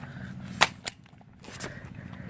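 A toy gun from a mystery box fires with one sharp, loud crack, then a softer second snap a moment later; the shots stand alone with no talk over them.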